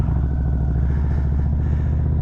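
A motorcycle pulls away slowly in first gear during a slow-speed cone weave drill, its engine thumping in a steady, loud, close low rumble with a regular pulsing beat and no talking.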